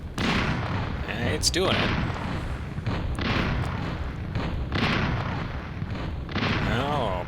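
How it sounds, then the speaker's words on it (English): Gun turrets in the video game Flexbox Defense fire repeated booming shots amid a dense, continuous barrage of game battle noise, with someone talking over it. "I hope this last gun turret can do it."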